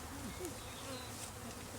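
Honeybees hum in a steady, close drone at a beekeeping demonstration, with brief higher whines as single bees fly past.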